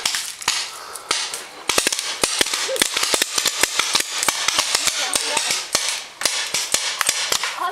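Paintball markers fire during an outdoor paintball game: a long run of sharp, loud pops, sometimes single and sometimes in quick bursts, crack steadily over faint background noise with no talking.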